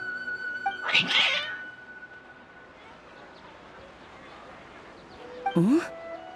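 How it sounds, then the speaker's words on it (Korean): Two cats let out sharp yowling caterwauls, one early and one near the end, over a low steady background hum. "고양이들이 갑자기 널 적대시하는 것 같은데 어떻게 된 거야?"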